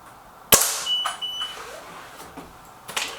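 One sharp, close crack from a Crosman Silverfox Nitro Piston air rifle shot at a target, followed by faint beeps and light handling noises, with no talking.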